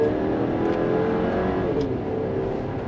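A 2024 Chevrolet Traverse RS, a midsize three-row SUV with a 328-horsepower engine, pulls hard under throttle, a steady loud engine drone with road and wind noise heard from inside the cabin.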